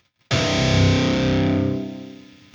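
A single distorted electric guitar open-string note, muted by a fret wrap, rings out sharply, then decays over about two seconds, sounding damped and choppy rather than sustained.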